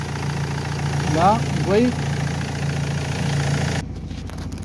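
A car engine idles steadily at close range, a low constant hum kept running by the alternator, with someone speaking over it; near the end the engine note abruptly drops away.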